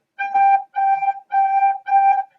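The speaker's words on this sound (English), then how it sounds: "if I'm saying we're going to play 4 G's with a recorder" Four separate, evenly spaced G notes on a recorder, all at the same pitch, clear and breathy, with short gaps between them.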